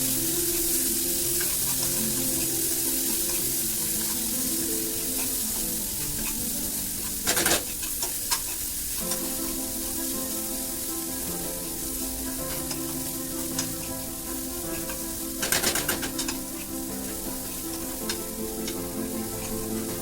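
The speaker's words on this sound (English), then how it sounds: "It's time to add tomatoes." Tomatoes sizzle in a hot frying pan of anda bhurji, a Mumbai street-cart egg dish, giving a steady loud frying hiss with two brief clattering stirs or scrapes partway through.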